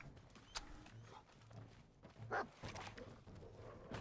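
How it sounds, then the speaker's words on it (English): Dogmeat, the dog companion in Fallout 4, lets out a couple of sharp barks amid creaks and clattering in-game ambience, one near the start and a louder one past the midpoint. "My dog goes crazy sometimes."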